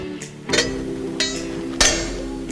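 A screwdriver levering a small spring into place on rear brakes of a Toyota, giving three sharp metallic clinks and scrapes over a steady low hum, close up.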